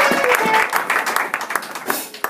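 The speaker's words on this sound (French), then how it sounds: "pendant que les chante, on peut continuer à acclamer pour les remercier" A church congregation applauding during worship singing, a dense burst of many hands clapping that thins into scattered, uneven claps, with some voices mixed in.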